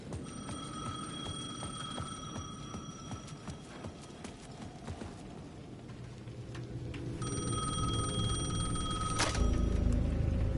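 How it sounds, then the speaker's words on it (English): An old-style electronic ring from a payphone at the edge of a plaza trills in repeated bursts. Irregular clopping and ambient noise sit underneath, and a louder, fuller ring swells in near the end. "The payphone at the edge of the plaza was ringing again"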